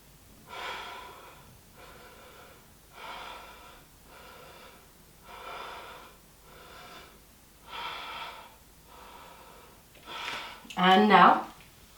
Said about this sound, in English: Take 5 deep breaths here.